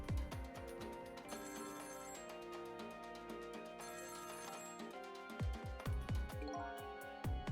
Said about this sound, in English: The phone's been ringing off the hook from the headquarters.